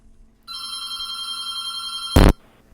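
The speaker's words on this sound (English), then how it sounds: "Oh, wait. A phone call." A telephone bell ringing in one sustained electronic trill of about two seconds, loud and close, cut off by a sharp clunk as the receiver is picked up, then quiet.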